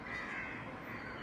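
Crows cawing around a building, a steady harsh chorus of overlapping caws that fills the whole moment at a moderate distance, with no talking.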